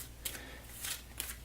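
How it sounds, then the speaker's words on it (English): Playing cards being shuffled for a trick-taking tabletop card game, three short riffling bursts spaced about half a second apart, quiet and close. "shuffle the cards"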